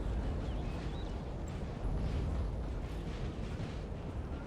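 Cannon fire from artillery during a Napoleon Total War battle with French cavalry on the field, a dense, continuous rumble of distant booms that keeps up steadily throughout with no clear individual shots.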